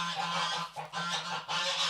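Geese honking on a homestead, a repeated chattering of loud calls in bursts that keep overlapping with short dips between them, close by and steady through the stretch, with no talking.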